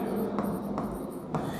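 Pen scratching across an ITI practical answer sheet, a steady rubbing scrawl with a few brief strokes standing out, close and fairly quiet, with no voices.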